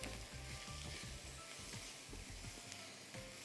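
Boiled potatoes fry with spices in a hot pan, giving a steady, close sizzle with faint crackles and no talking.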